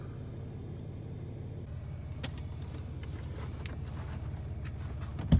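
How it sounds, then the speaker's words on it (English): Skid steer engine idling with a low rhythmic diesel chug as the machine backs up onto a trailer, the tone shifting partway through, with scattered metallic clicks and a thump at the end. "Time to load the skid steer, backing up, getting the trailer."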